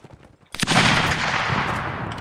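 Musket fire in the Napoleonic-era battle game Mount & Blade: Napoleonic Wars, heard as a sudden loud crackling volley of overlapping shots that rolls on as a sustained roar with no break.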